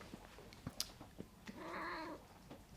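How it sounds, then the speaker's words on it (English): One of two new house cats gives a short drawn-out meow, with a few soft clicks and rustles nearby in an otherwise quiet room. "We've just got 2 new cats."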